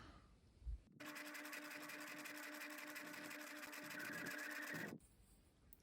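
A Bernina 1008 sewing machine runs a straight stitch on a lapped seam, a steady fast mechanical whirr lasting about four seconds with a faint click before it starts and after it stops.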